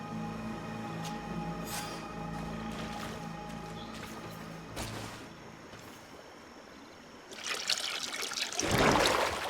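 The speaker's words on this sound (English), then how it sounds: "That must be where we need to pour the potion." Liquid trickles and splashes as a potion is poured onto stone altar slabs in GreedFall, a soft dribble under game ambience that swells louder and brighter near the end.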